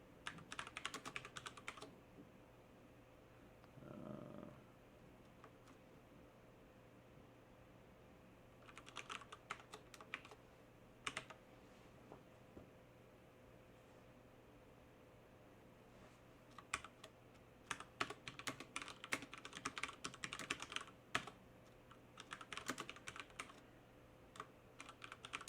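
Computer keyboard typing comes in bursts of quick clicks separated by pauses, close and fairly quiet over a faint steady hum.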